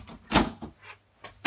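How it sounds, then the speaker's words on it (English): A Marley Rapid oak effect folding door is slid along its track, giving a few quick clacks and bumps with a brief rolling rub between them, close and fairly quiet, with no talk. "it's a sliding door and it solved our problem"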